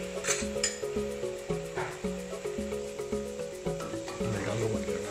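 Boiled spaghetti tossed and stirred in a pan of pesto over heat, with soft sizzling and repeated rhythmic scraping and clinking of a utensil against the pan, close and moderately quiet.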